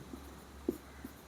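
A pen or chalk writes out a trigonometry problem, producing a few faint, soft scratches and taps spread over about a second, with no talking.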